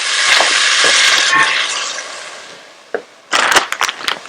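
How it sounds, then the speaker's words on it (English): A spice mixture for palak gosht frying in a pan, loud crackling sizzle that fades over a couple of seconds, then a sharp clatter and renewed sizzling bursts as it is stirred. "I'm going to fry this mixture for maybe 1 to 2 minutes."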